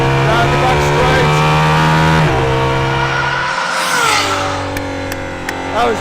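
An Aston Martin Valkyrie hypercar on a race track: a loud, high-pitched engine note rising through the gears with shift drops, then easing and building again, up close, with a voice talking over it.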